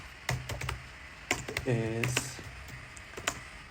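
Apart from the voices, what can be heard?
typing on a computer keyboard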